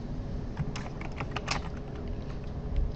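Quick, uneven keystrokes clatter on a computer keyboard while someone writes code, a close, steady run of clicks with brief pauses and no talking.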